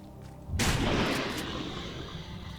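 A small shotgun blasts flesh mutants in the game STALCRAFT, one loud, deep boom that rolls off into a lingering rumble after a quiet start.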